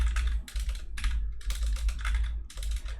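Fast bursts of keystrokes on a computer keyboard tap out in quick rhythmic runs separated by brief pauses, close and clear with no talking.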